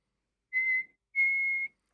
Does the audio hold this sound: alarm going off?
no